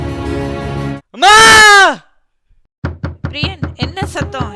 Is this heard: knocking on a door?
yes